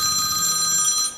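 A telephone rings with a steady electronic trill, bright and continuous, heard close and alone before fading at the end.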